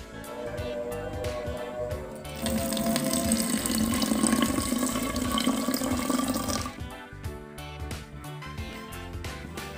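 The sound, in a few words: filling a bottle with water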